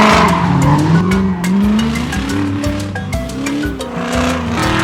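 Race cars skid hard during a race, loud continuous tire squeal and engine roar with shifting pitch, several cars sliding close by with no pause.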